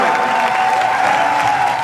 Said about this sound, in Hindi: जोरदार ताली की बात कर रहा हूं मैं